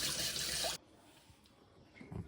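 Water gushes from a tap to rinse out a used cooking oil container in a village kitchen, a loud steady splash for under a second that cuts off abruptly, leaving faint drips and handling noises.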